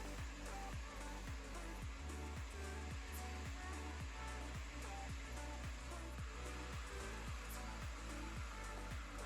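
A diamond grinder strips paint and a concrete coating off a floor, giving a loud, steady roar with rhythmic pulsing as the heads sweep across the surface, with no talk.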